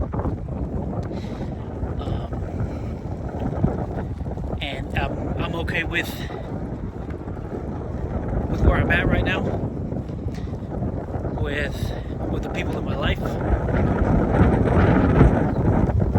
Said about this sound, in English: I'm so sorry for that wind, guys.